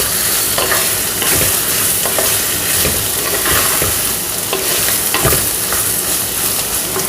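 Bottle gourd pieces stirred in a pan with a tablespoon of oil, a steady scraping and shuffling of the spoon over a constant frying sizzle, close and fairly loud with no one talking.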